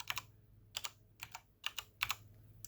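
Computer keyboard typing heard alone: quiet, close, crisp clicks in small bursts of two or three keystrokes separated by short pauses.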